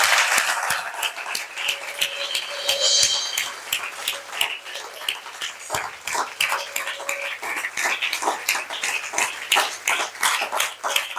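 A church congregation applauds for Jesus during a Sunday service, a dense, steady wash of many hands clapping that keeps going without a break, loud and close.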